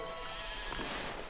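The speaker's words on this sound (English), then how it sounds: "Bah, and other sheep noises. Sheep make several noises." Sheep bleating in the video game Okami, a short wavering call under a steady bed of ambient game sound, fairly faint and without speech.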